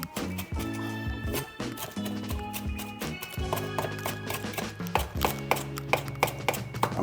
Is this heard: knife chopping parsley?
yes